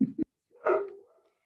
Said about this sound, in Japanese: 隣の犬がどんどん吠えてる